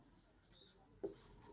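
A pen scratches on paper in short, quiet strokes while a math answer is written, with soft close scribbling in bursts and a brief knock partway through. A voice speaks faintly underneath.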